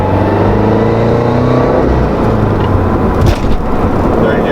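A Subaru Crosstrek's FB20 engine with an AVO turbo kit pulls hard in second gear, its loud, steady drone climbing in pitch as it builds boost, heard from up close.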